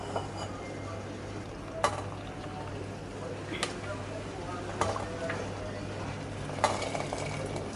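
Papaya leaves stirred briefly in boiling water in a pot, soft bubbling and swishing under a low hum, with a few sharp utensil clinks against the pot spaced a second or two apart.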